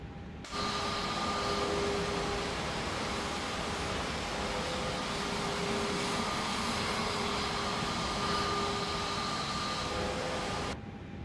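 Simulated Airbus A320neo engine spooling up in Microsoft Flight Simulator 2024, a steady broadband jet roar with faint whining tones that starts abruptly and holds evenly loud for about ten seconds before cutting off.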